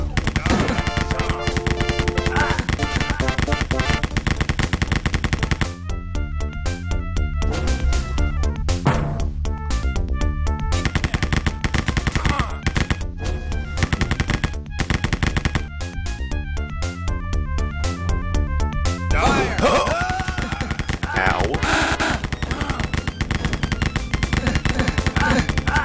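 Rapid bursts of automatic gunfire from the shooter game Rise of the Triad, set aboard the Ark, ring out loud and close in repeated volleys over a constant wash of game music and effects.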